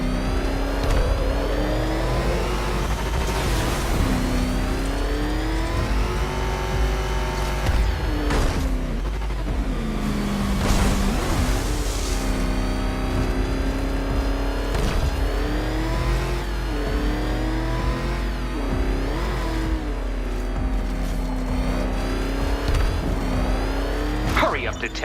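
A car from the video game Batman: Arkham Knight revs and accelerates again and again, its engine pitch rising and falling through repeated gear changes. The engine is loud and close, and voices talk over much of it.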